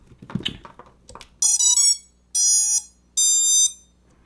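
Startup beeps from the ESCs on a freshly built Lumenier QAV-X quadcopter just after the battery is plugged in: after some soft handling noise, three loud, clean electronic tone bursts, each with stepped pitches, sound alone.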